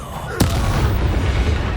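The Incendio fire spell is cast in Hogwarts Legacy: a sharp burst erupts, then a dense roaring crackle of flame carries on loudly behind it.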